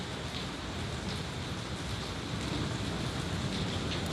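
Steady rain falls outdoors on a street, a dense, even hiss of drops with a wash of wind or water noise running throughout, no voices.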